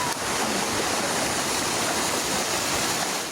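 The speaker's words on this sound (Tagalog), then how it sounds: "rumagasa ang kulay tsokolating baha na may tangay na sandamakmak na kahoy at sanga ng puno" A chocolate-brown flash flood surges down a dike in Barangay Labangal, General Santos City, carrying masses of wood and tree branches, a loud continuous roaring rush of water with no voices.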